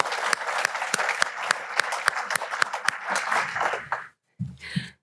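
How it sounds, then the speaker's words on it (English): An audience at a deer industry conference claps steadily for several seconds, a dense, close roomful of hands that fades out near the end before a short murmur. "I'd like us all just to put our hands together and congratulate them for that great accolade"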